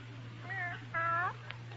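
A house cat gives two drawn-out meows in quick succession, fairly close and clear, over a low steady hum, with a small click afterward.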